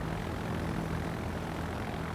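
Propeller aircraft engines drone steadily in a naval battle game, a continuous, faint, even hum of planes flying toward the enemy with no talking.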